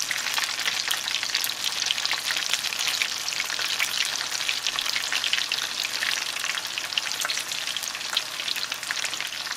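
Ground beef tacos dorados frying in hot oil on a stovetop, a steady dense crackling sizzle that stays constant and fairly loud throughout with no voices.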